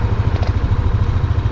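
A 2025 Yamaha NMAX 155 V2.1 scooter engine running nearby, a steady low throbbing idle with a quick regular pulse and a little mechanical clatter, loud and unbroken.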